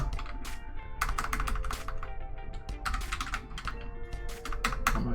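Rapid bursts of clicking keystrokes on a computer keyboard, close and steady with short pauses between runs of typing, over a low constant background hum.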